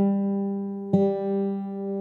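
A guitar's D string fretted at the fifth fret rings against an open E string, two sustained pitched tones holding steady with a brief pluck accent midway, close and clear with no talking.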